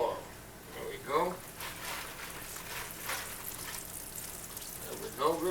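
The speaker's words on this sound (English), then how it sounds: "All coated up. Right into the hot oil." Breaded pork chops fry in hot oil in a skillet, a soft sizzle and crackle running through the clip, with someone speaking briefly over it.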